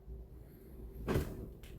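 A door swung open with a single soft thump and rush of movement over a steady low background rumble, followed by a faint second brush of sound.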